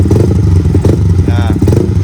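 A Yamaha XSR-155 motorcycle with an opened-up air filter idles close by, its engine giving a steady, throbbing low rumble as someone talks over it.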